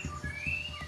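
A competition songbird sings close by in a few thin, high whistled notes and chirps, soft but clear, over faint low thumping background.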